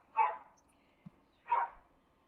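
Two loud, close dog barks about a second apart, with a faint low thump between them, in an otherwise quiet kitchen during cooking.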